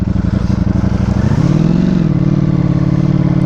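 A Ducati Panigale V4S engine running on all four cylinders as the bike is clicked into gear, a loud, close, throbbing idle with a rapid pulse that rises in pitch midway and then settles, with no talking.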